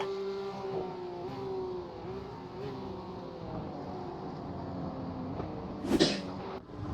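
A Porsche Cup race car engine drones steadily with small pitch shifts as the car runs, and a brief sharp burst rises near the end.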